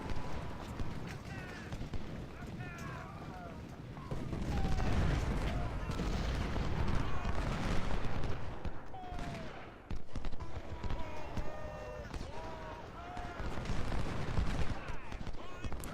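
Scattered musket and rifle fire from a Civil War battle at Malvern Hill in a strategy video game, a thin, irregular crackle of shots layered over a steady rumble of battle ambience, with no one speaking.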